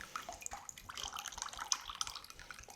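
Whey trickles and drips from freshly made homemade ricotta as it drains, a soft, steady patter of small splashes and droplets, close and fairly faint, with no talking.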